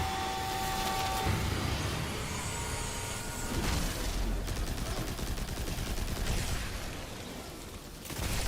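Video game gunfire crackles in scattered bursts at moderate volume, with repeated shots and rattling volleys over a busy background of game sound.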